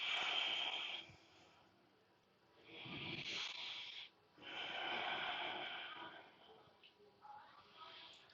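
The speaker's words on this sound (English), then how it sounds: "And then they just come back to those long breaths." Long, deep breaths during a slow stretching hold, three or four drawn-out breathy swells a few seconds apart, close and fairly quiet with no talking.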